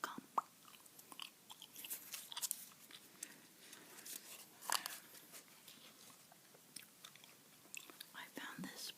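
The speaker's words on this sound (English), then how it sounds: "Here's the bubble gum I'm chewing tonight, by the way" Super Bubble bubble gum being chewed close up, with soft, wet smacks and crunchy bites repeating irregularly under quiet whispered talk.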